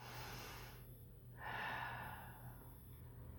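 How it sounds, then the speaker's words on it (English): One deep breath is drawn in slowly and then let out, a soft airy inhale and exhale heard close in a quiet room. "Take a deep breath."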